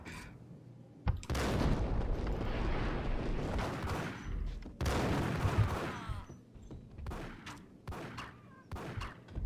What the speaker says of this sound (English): Okay, so she is shooting at me.